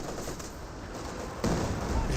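An artillery barrage in Company of Heroes 2 makes a dense, continuous roar of battle, with a heavier surge of explosions toward the end.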